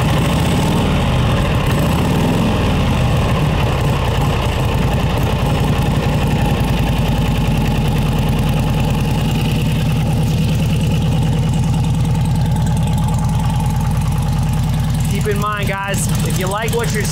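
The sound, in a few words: vintage motorcycle engine running after kick start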